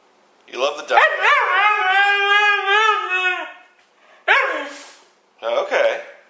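A dog named Mishka makes a long, drawn-out, wavering howl-like bark, then two shorter yowls after a pause. The sound is close and loud against silence.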